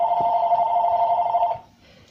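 A telephone rings in a kitchen with a single steady electronic tone lasting about a second and a half, then cuts off into quiet room noise.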